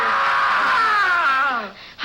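A man lets out a horrible scream in a Treasure Island audio drama after a clash of swords, a long loud wailing cry that falls in pitch and then breaks off, close and alone.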